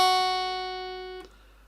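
Plucked guitar note on the low E string, second fret, already ringing and slowly fading, then damped abruptly near the end; no voices.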